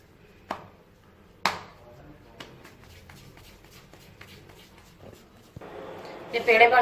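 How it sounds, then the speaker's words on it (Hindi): A knife chops lachha paratha dough into portions on a dusted slab, with a few sharp cuts early on and then softer handling sounds; a voice talks underneath. "इसके जितने पेड़े आपने बनाने हैं उतने कट लगा दें"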